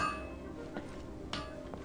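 Blacksmith's hammer in Genshin Impact striking metal, a few sharp clinks spaced apart, moderately faint over a steady background hum with music-like tones.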